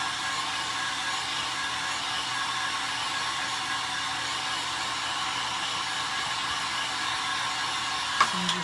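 A hair dryer blows hot air over wet paint on a decorated Easter truck craft piece, a steady close whooshing drone held evenly throughout, with a couple of small clicks and bumps near the end.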